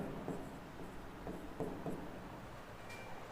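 Numbers are written on paper during a maths lesson: faint, scratchy pen strokes come in short bursts, quiet and close, with no clear talking.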